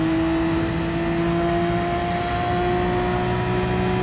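A race car laps the Red Bull Ring in Gran Turismo Sport, its engine holding a steady, loud high-pitched whine at near-constant revs that climbs very slightly throughout, with no voices.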